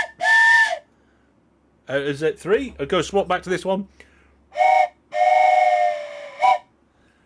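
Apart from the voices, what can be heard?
train whistle sound effect redeemed by stream viewers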